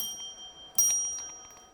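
A bright bell rings once with a sharp strike and a long sustained metallic tone that slowly fades, with faint ticking before it.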